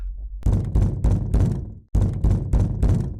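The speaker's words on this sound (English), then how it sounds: "There's a knock at the door." Knocking on a door in the horror game Parasocial, two bursts of four solid thuds each, separated by a short pause, close and loud with no talk.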